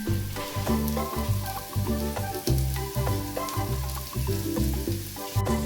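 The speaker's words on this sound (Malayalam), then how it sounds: "കുറച്ച് കറിവേപ്പിലയും കൂടി ഇട്ടിട്ട് നന്നായിട്ട് വഴറ്റി കൊടുക്കണം" Onions and curry leaves sauté in a pan for Kerala-style country chicken curry, giving a steady sizzle with scraping stirs, partly covered by rhythmic background music.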